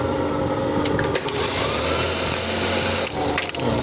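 A Juki buttonhole sewing machine stitches in a dense, fast mechanical whir with rapid rattling, loud and continuous, with a couple of brief sharper knocks as the blade drops.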